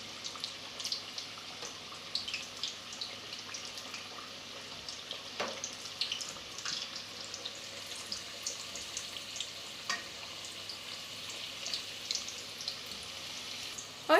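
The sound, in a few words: meat samosas frying in hot oil in a pot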